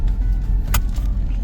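Inside a moving car on a leisure farm in Sulaibiya: steady low road and engine rumble with a brief rattling click in the middle, close and continuous, no talk.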